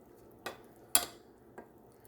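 A spoon stirs collard greens and bacon in a pan, giving three short clanks against the pan, the middle one the loudest, with quiet gaps between them.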